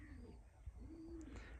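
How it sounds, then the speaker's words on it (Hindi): A bird in a garden nursery gives soft, drawn-out coos like a pigeon or dove, two long calls heard clearly over a steady outdoor background hum. "बहुत ही खूबसूरत सी चिड़िया"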